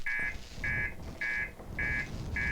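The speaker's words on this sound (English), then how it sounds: "I thought I died with all the alarms happening." Spaceship alarm in the video game Outer Wilds, a loud electronic buzzer sounding in five evenly spaced beeps over a low rumbling background, with no talking.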